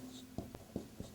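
Marker or chalk scratching briefly on a board during an Arabic lesson, a few short close strokes over a faint room hum.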